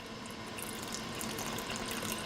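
Cold water pouring steadily into a bowl for seitan dough, a continuous soft splashing hiss at close range with no voices.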